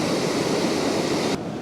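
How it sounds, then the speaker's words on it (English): Water pours out underneath a structure in Glen Affric, a loud, steady rushing wash that cuts off abruptly near the end. "there's the water pouring out underneath"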